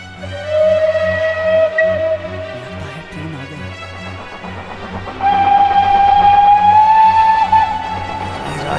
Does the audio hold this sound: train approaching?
yes